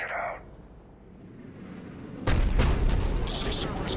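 A heavy cannon booms in Mass Effect 3, a loud broadband blast erupting partway through and rumbling on with crackling bursts, preceded by quieter game ambience and a brief voice.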